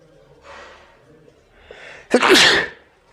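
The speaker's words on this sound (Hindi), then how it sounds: "एक छींक में दिमाग घबरा गया" A single sudden, forceful human sneeze bursts out after a couple of quiet breathy sounds, close and loud, in a short indoor moment.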